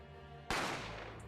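Gunshot sound effect from the video game The Great Ace Attorney Chronicles, a single loud sharp bang that cuts in abruptly over a quiet tonal background and decays into a ringing tail.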